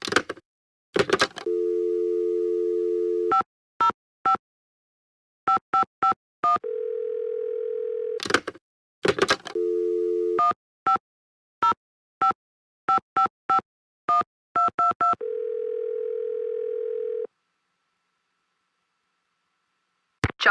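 Touch-tone dialing in a Secret of the Scarlet Hand game: a dial tone sounds, quick keypad beeps run through two rounds, and each round ends in a long steady tone, with clicks and short silent gaps in between.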